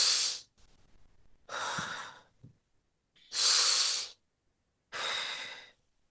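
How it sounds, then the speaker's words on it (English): Four deep, slow breaths pass through the nose and mouth during a breathing exercise, each a long airy rush, close and loud, separated by quiet pauses. "Take a deep breathing through nose, leave through the mouth."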